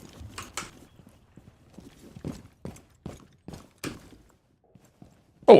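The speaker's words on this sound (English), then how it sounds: "Oh, I'm hearing footsteps already." Footsteps in the video game Rainbow Six Siege, a series of distinct, fairly quiet thuds in an irregular walking rhythm, ending in one louder bump.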